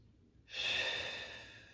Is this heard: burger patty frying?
no